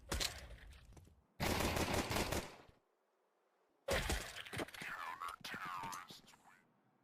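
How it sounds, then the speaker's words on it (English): Rapid gunfire in a Counter-Strike 2 esports match, dense bursts of rifle shots at close range in two loud stretches with a quiet gap between, under no clear talk. "We're already firing in."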